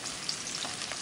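Shallots frying in hot oil in a wok: a steady, bright sizzle with small crackles and pops, close and continuous, with no voices.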